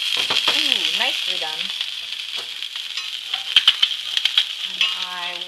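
Egg frying in a pan with a lid on to steam the top, a constant bright sizzle running throughout while someone talks over it and utensils clink briefly.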